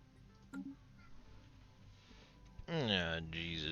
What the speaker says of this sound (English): I think one of my cats is in friggin' heat again